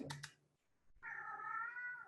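Leo, a pet cat, lets out one long, drawn-out meow close by, preceded by a couple of soft taps and a brief quiet pause.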